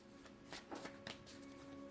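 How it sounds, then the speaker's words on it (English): Tarot cards being shuffled by hand, a quiet, steady papery riffling with a few soft slaps and taps running throughout, close but faint. "One more shuffle."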